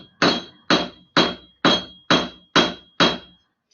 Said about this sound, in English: So I use the back end of my little hammer to draw that out.